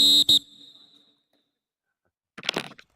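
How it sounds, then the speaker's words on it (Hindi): A referee's whistle at a Yuva Kabaddi Series match gives a short, sharp, loud double blast up close, followed by quiet and then a brief burst of crowd or commentary noise. "और क्या सीटी बजने वाली है यहाँ पर।"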